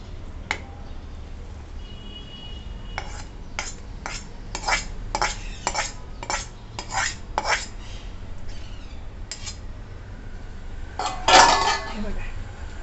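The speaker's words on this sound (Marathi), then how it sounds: "हे बघा आता लगेच आपण हे मिश्रण चांगलं सर्व मिक्स करून घ्यायचं" A spoon stirs wheat-flour churma into melted jaggery in a metal pot, making a series of close, sharp scraping clinks in an irregular rhythm. One louder clatter comes near the end, and no one speaks.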